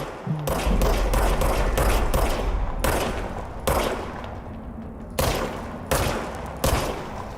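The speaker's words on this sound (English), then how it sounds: "Fire service weapon." A service weapon firing in a Remedy video game, rapid bursts of loud, close shots cracking in quick succession at first, then spacing into single heavy reports with short gaps between them.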